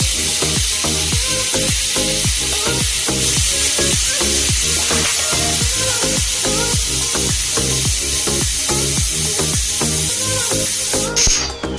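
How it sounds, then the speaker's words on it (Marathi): Loud, continuous sizzling and crackling of spices frying in hot oil in a pan, for adding to dal, pulsing steadily throughout. "बाकीचा मसाला फ्राय करून घेणार आहे डाळीमध्ये घालण्यासाठी"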